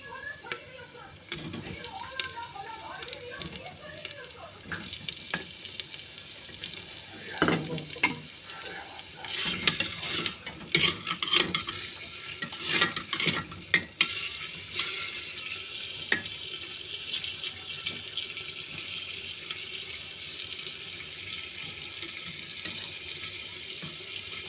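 Onion and meat sauté in a pot at low volume, giving a faint continuous sizzle broken by occasional stirring scrapes and clatter, with louder bursts in the middle.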